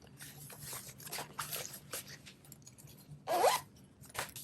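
A zipper runs along the pocket in the lining of a homemade fabric bowler bag, making a few quick, close rasping strokes with short pauses between them in a quiet room.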